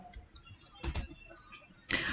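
Typing the Wi-Fi network name on a laptop keyboard: a few sparse, soft key taps followed by a couple of sharper clicks and a brief louder clatter near the end, close and quiet, no talk.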